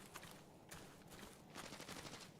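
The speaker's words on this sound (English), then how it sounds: "We heard shots at village." Distant gunfire in Arena Breakout: Infinite, coming from a village: a few faint, scattered shots and short bursts, then one sharper crack right at the end, all well back in the mix.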